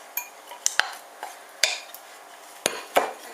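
A spoon clinks and scrapes against a bowl while tossing a salad of tomatoes and cucumber, with a handful of sharp, irregular taps separated by quiet gaps.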